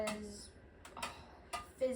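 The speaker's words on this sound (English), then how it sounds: "now I am just mixing in my dye" Light clinks and taps of a utensil stirring liquid dye into melted candle wax in a container, a few soft, irregular knocks spread over a quiet background.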